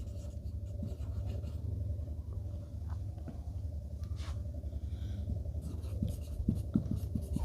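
A fraction being written by hand, continuous close scratchy pen or pencil strokes with a low steady hum underneath and a few sharper taps toward the end, no talking.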